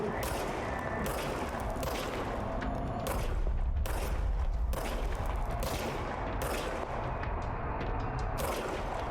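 Repeated bursts of gunfire in the video game Control, loud shots and volleys landing every second or so over a constant dense background of game noise.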